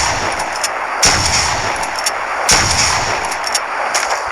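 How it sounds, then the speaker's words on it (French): Shotgun fired repeatedly in a video game, loud close blasts at irregular intervals with lighter clicks and impacts between shots, over constant background noise and no talking. "Quand vous avez une arme du genre fusil à pompe de guerre, vous pouvez spammer comme ça."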